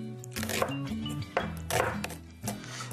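Knife chopping red onion into rings on a board for an antipasti dish, a few spaced, close cuts and knocks, with faint kitchen clinks in between.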